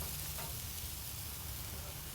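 Chipotle-marinated pork and jalapenos frying on a hot grill, giving off a steady, close hiss of sizzling with no voices.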